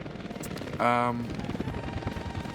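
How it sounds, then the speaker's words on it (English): Helicopters fly in the city-building game Workers & Resources, heard as a brief, loud whirring burst that rises over ongoing talk and then fades back under the voice. "That's a lot of helicopters."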